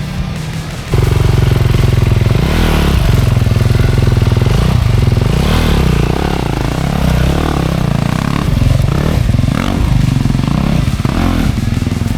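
A dirt bike engine on a Utah trail kicks in loudly and keeps running close by, revving and lugging unevenly over rough ground with clattering bursts throughout.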